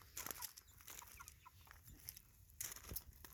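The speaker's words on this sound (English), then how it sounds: "Got the baby chicks." Baby chicks peep under a heat lamp inside a chicken tractor with a duckling, soft scattered chirps repeating quietly and close, with faint rustling between them.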